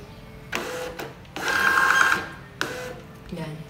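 A GPrinter GP-1324D thermal label printer prints a single page: brief mechanical bursts with a louder buzzing feed run in the middle, then a click and quieter whirring, close and fairly loud.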